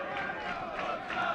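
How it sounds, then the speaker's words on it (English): Poole Town football fans keep up a steady, loud roar of chanting and cheering from behind the goal at a sunny afternoon non-league match against Winchester in Dorset, a dense crowd wash with no clear breaks. "that Winchester goal has certainly not stopped the great noise from behind the goal"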